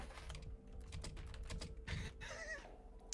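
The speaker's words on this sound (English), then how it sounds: "You guys go ahead and talk while I'm typing." Soft, quick keystrokes on a computer keyboard tap along in an uneven stream, quiet and close, with faint room noise behind.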